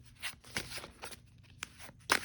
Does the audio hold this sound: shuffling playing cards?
yes